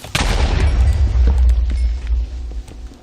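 A heavy, booming Minecraft creeper explosion with deep rumble rolling out for a couple of seconds in a cave, loud and close, then fading.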